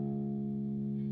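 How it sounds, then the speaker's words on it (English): Guitar sixth string tuned down to D flat, a low steady note sustaining evenly for about a second, close and fairly quiet, with an effects-processed, slightly chorused tone. "the sixth string needs to sound like this."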